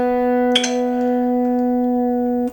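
Single B string on a Stratocaster electric guitar plucked during tuning, one clear sustained note ringing steadily for over two seconds, close and alone.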